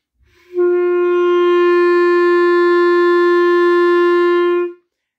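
A single sustained clarinet note G held steadily for about four seconds, clear and fairly loud, with no talking.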